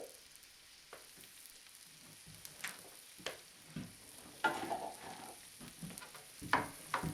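Onions and cabbage frying in a pan sizzle softly while a utensil stirs and scrapes now and then, the faint hiss punctuated by louder clattering scrapes toward the end, with no talk.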